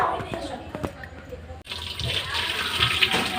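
Tap water runs while fish and meat are rinsed in a home kitchen during group cooking. A voice and light splashing come first, then a louder, steady gush of water fills the last half.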